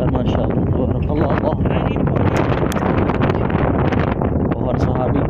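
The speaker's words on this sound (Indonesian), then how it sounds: "Ini disertai dengan angin besar." Strong wind buffets the microphone in a continuous loud roar outdoors beside an ancient 1,400-year-old tree, with a voice talking over the gusts.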